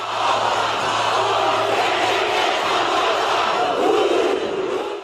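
A huge stadium crowd of men, women and children in Auckland performs a record-setting haka war chant, a loud, sustained roar of massed voices that holds steady and swells slightly near the end.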